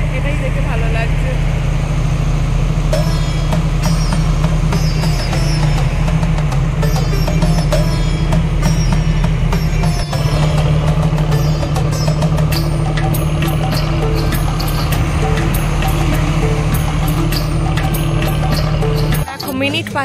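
A ferry launch crossing from Chinsurah to Naihati runs with a loud, steady engine drone and deep throb, unchanging for the whole stretch, with people talking over it.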